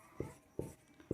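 Handwriting during a Sanskrit grammar class, three distinct scratchy pen strokes spaced evenly apart, close and quiet with no talking.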